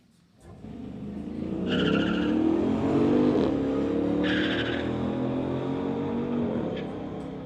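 Street-legal drag race cars launch with a swelling engine roar and tire squeal, then hold a loud, steady whine as they run down the strip before fading slightly at the end.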